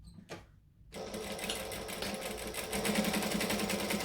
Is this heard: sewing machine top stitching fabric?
yes